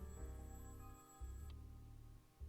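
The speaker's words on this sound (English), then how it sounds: "Oh, Whiskers, there goes the phone." A telephone ringing in the video game Nine Noir Lives, a quiet warbling bell in two short bursts over steady background music.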